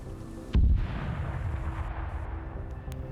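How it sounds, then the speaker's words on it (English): Airstrike impact on a position in a military video game: one heavy, booming blast with a deep rumbling tail, set against a steady background of distant battle noise, with no talk. "So you still have some airstrikes coming in"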